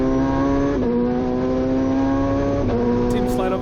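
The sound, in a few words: MCA Hammerhead time attack car on an onboard lap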